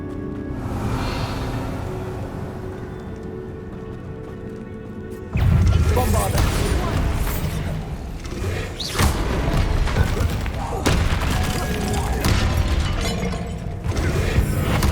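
A Bombarda explosion spell in Hogwarts Legacy, a sudden loud blast mid-way that sets off sustained crashing, rumbling and debris impacts with further sharp hits, after a quieter stretch of game ambience.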